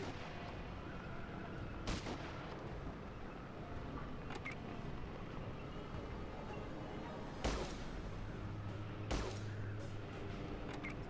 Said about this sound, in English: This guy's just gonna keep shooting us with his grenades if we don't do something.